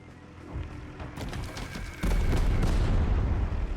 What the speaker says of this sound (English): A good bombing run from the enemy.